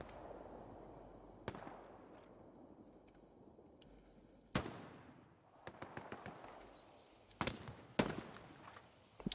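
Gunfire from the video game Hell Let Loose during a competitive match: scattered distant rifle and machine-gun shots over a rustling background, broken by several sharp, loud cracks near the middle and end.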